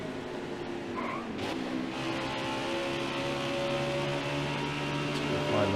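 Race cars in the NASCAR Heat Ultimate Edition video game on Nintendo Switch, held at full throttle with a steady, sustained engine drone and tire squeal that grows slightly louder over time.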